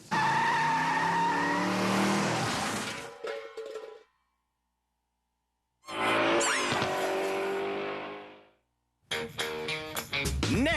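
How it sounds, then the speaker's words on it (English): A car skids on ice during a driver training exercise, with long loud tire squeals and engine roar in two bursts separated by silence, then a third squeal starting at the end. "Canada's worst drivers learn how to control a skid on ice."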